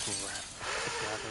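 Glass shattering in a video game, a short bright crash of breaking glass over continuous game noise with people talking over it.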